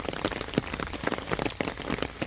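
Steady rain patters on a barefoot walking path in Hwangseong Park, Gyeongju, a dense continuous hiss with scattered sharper drops close by and no voices.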